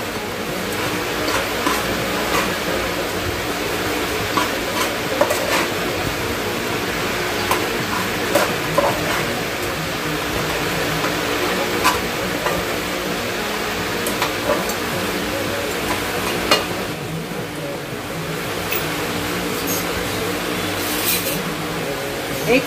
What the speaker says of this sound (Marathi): मिक्स करूया.